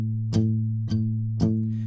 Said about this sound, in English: you're only hearing the A note ring out